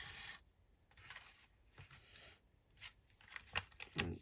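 Paper rubbed and scraped against the edge of an envelope punch, in soft, close rasping strokes that come in short bursts with brief pauses and a couple of sharper scrapes near the end.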